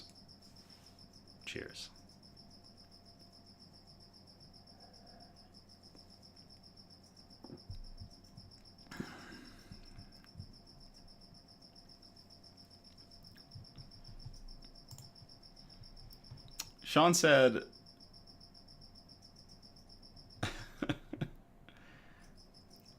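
A cricket chirps as a steady, thin high trill running through the whole stretch, faint and constant, while someone speaks intermittently over it with a few louder bursts of sound.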